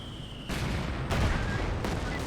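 Heavy gunfire from German positions in Company of Heroes 2 crashes in bursts of loud, dense shots and booms across a short stretch of battle.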